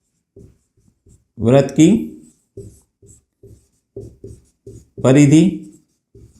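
Pen or marker strokes while a Class 10 circle-area maths problem is worked out: short scratchy taps scattered through the clip, between and under a man's spoken explanation.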